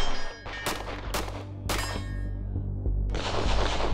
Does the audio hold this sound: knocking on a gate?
no